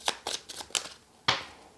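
Love Letter playing cards are shuffled in quick, crisp riffling bursts, four short flutters and then a louder final riffle, close and clear, with no talking.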